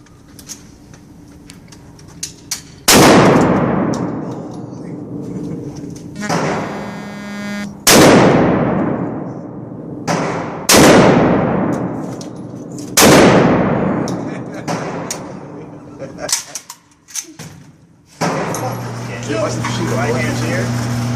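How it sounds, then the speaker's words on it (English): An M249 SAW machine gun fires five or six loud bursts at an outdoor shooting range, each burst a sharp rattling roar with a ringing tail, separated by pauses with faint talk between them. "we're gonna shoot 5 to 7 round burst"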